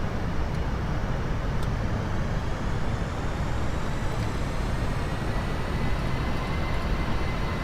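An airliner's engines roar steadily during the climb in the video game Aerofly FS 4, a loud, unbroken broadband rush with no talk over it.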